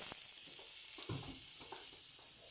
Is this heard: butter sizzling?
yes